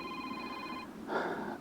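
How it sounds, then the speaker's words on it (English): A phone ringing with an incoming call beside a pike fishing spot, a short electronic ring tone heard fairly near, followed by a brief burst of outdoor noise. "Got a phone call coming in"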